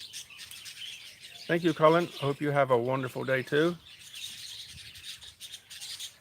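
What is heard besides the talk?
birds chirping outdoors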